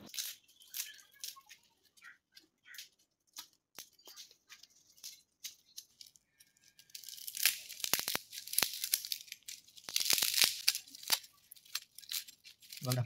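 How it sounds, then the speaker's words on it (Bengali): Banana peels and dragon fruit flowers being cut into small pieces, giving quiet crisp snips and tearing at first, then denser, louder crunchy cutting in the second half. "এবারে কলার খোসা আর ড্রাগন ফুলগুলোকে একটু ছোট ছোট করে কেটে নিচ্ছি"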